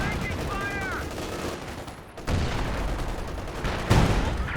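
Rapid machine gun fire from a real-time strategy battle in Company of Heroes 2, blended into dense overlapping gunfire and rumbling explosions that stay loud throughout, with a commentator talking over it.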